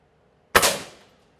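A single Gamo Hornet Maxxim air rifle shot, one sharp close crack that fades quickly after a moment of quiet.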